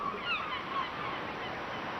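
Seabirds calling from a group of rocks off the Orongo cliff on Easter Island, with a few faint honking cries over a steady wash of surf or wind.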